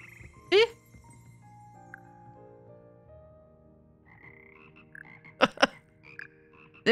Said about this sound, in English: Here perch the slimy yet symphonic frogs that comprise the Hogwarts frog core.